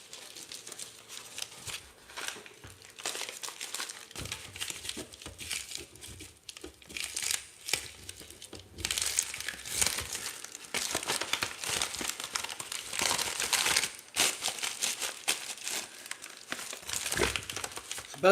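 Crinkling plastic bubble mailer handled and folded while an order is packed, steady rustling and crackling close by that grows louder and denser in the second half.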